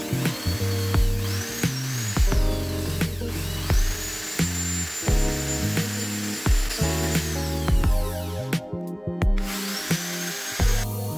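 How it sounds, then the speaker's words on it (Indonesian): A brick is drilled through with a power drill while making a small electric stove from used cans; a thin, high whine rises and holds in several bursts over a loud backing of music. "di ujung-ujung parit spiralnya itu dibuatkan lubang menembus batanya"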